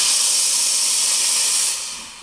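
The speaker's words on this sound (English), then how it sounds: "The steaming performance of the Linea Mini is insane." A La Marzocco Linea Mini espresso machine steam wand blasting a loud, close, steady high hiss that tapers off slightly at the end.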